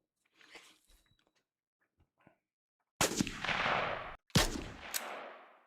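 A rifle gunshot sound effect made for a game fires twice in quick succession, each a loud sharp blast with a decaying tail, after a few faint, scattered clicks and rustles in near silence.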